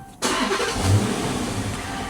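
A Dodge Charger R/T engine cranks and catches, then settles into a loud, steady rumble with a slight swell in revs, heard up close with no one talking.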